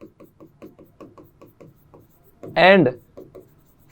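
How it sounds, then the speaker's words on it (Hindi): Marker or chalk writing on a board during a chemistry lesson, a rapid series of short scratchy strokes in an uneven rhythm, close and distinct, briefly interrupted by a single spoken word. "यहां पर मैं लिख भी देता हूं कि"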